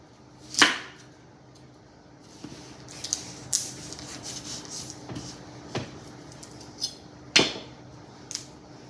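A knife cuts into a ripe persimmon, giving a few sharp crisp slicing scrapes and soft taps spaced irregularly, close and fairly quiet, with no speech.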